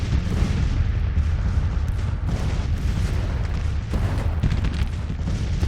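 Artillery fire rumbles through a Grand Tactician: The Civil War battle, a dense continuous barrage of booms and gunfire thuds, loud and unbroken.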